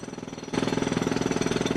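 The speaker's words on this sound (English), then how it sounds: "the SoCal Gas Company crew just got out here with a jackhammer. They're actually busting into the sidewalk" A SoCal Gas crew's jackhammer pounds into a concrete sidewalk on a residential street, a loud, rapid, steady hammering that starts abruptly and continues unbroken.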